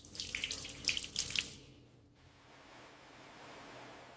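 Tap water runs into a bathroom sink during face washing, a steady broadband splash for about a second and a half that then drops to a faint background hiss.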